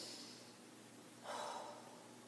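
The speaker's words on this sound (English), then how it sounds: "Big deep breath." A single deep inhalation during a seated twisting stretch, a soft rushing breath swelling in the middle and easing off, close and fairly quiet with no talking.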